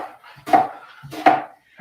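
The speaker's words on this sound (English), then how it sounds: "Chopping the onion." A knife chops an onion on a cutting board in two distinct, fairly loud thuds spaced under a second apart, with quiet room sound between.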